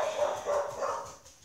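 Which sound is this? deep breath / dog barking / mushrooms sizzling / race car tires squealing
dog barking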